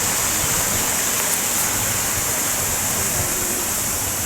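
A gushing waterfall beside a river pours in a steady, dense broadband roar, loud and close, holding constant throughout without pause or change.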